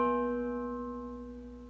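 A guitar B string prepared with a small split ring forced on near the bridge rings out as a single plucked note, a quiet, buzzy, slightly metallic tone that decays steadily over almost two seconds.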